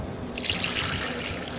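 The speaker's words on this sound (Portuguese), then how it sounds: "e aqui vamos estar colocando nossa água." Water poured into a blender for a potato starter ferment, a steady close splashing rush that brightens after a brief moment, no talk.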